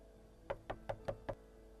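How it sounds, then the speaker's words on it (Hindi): Five even, hollow raps on a wooden house door at night ring out clearly in a steady rhythm in an animated cartoon scene, with no voices over them. "तभी दरवाजा खटखटाते हुए"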